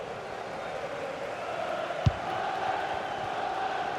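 A crowd in a football video game gives off a steady, roaring murmur that swells slightly throughout, with a single sharp thump partway through.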